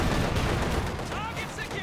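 Panzerwerfer rocket launcher salvo in Company of Heroes 2, a dense loud rumble of explosive launches and blasts with rising whooshes overlapping, sustained through the moment.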